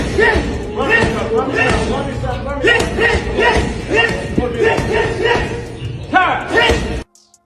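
A boxer pounds a heavy bag while training for a fight, landing a handful of dull, irregular thuds and slaps that sit under loud, continuous voices and shouting before the sound cuts off abruptly.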